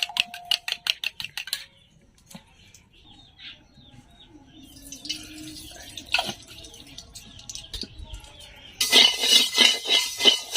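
Eggs beaten with onion and green chilli in a bowl, quick rhythmic clinking taps in a short burst, a quieter pause, then a louder, faster run of whisking strokes close by.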